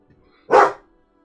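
A single sharp dog bark, loud and close, stands out against a quiet background.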